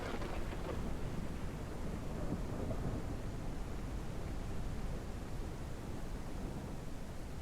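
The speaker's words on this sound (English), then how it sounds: "this thunderstorm weather, I forgot how good the weather is in this game" A video game thunderstorm fills the scene with steady, dense rain and rumbling noise, constant and fairly loud throughout, no talking.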